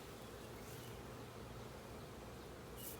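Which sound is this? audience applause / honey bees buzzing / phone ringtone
honey bees buzzing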